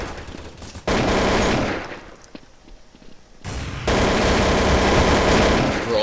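Sustained automatic AK rifle fire in a tactical shooter, two long loud dense bursts separated by a brief quieter pause.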